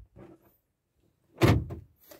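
A car door is pushed firmly shut with a single solid thunk at close range, preceded by a couple of softer handling knocks and followed by a faint rattle.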